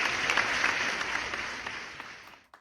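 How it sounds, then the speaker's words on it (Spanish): Short burst of audience applause welcoming guests onto a stage, moderately loud at first and fading out toward the end. "Por favor, reciban con un aplauso a Rodolfo Luis Vigo, Edgar Morin"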